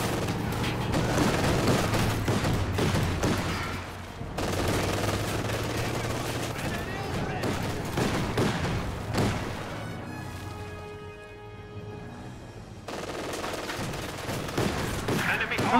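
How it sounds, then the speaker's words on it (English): MG42 machine gun fire in a real-time strategy game battle, rapid rattling bursts mixed with other gunfire, booms and a fusillade, with a brief quieter lull midway before the shooting resumes, under ongoing commentary. "MG42 working on some squads right side"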